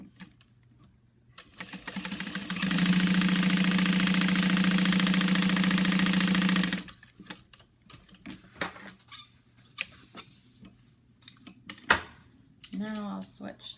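A sewing machine stitching a bag's lining runs in one steady, even burst for about four seconds, followed by scattered clicks and handling noises.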